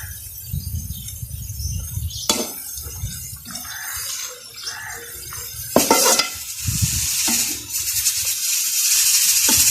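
Tomatoes and green chillies added to half-browned garlic and onion in a pan, with loud sizzling, stirring scrapes and clatter of a utensil against the pot, close and busy throughout.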